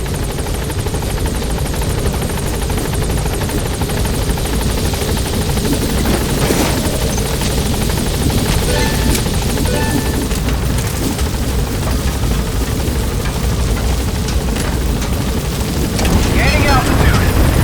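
Pequod's helicopter from Metal Gear Solid V: The Phantom Pain drones loud and steady with a dense rotor roar throughout, a radio voice speaking over it.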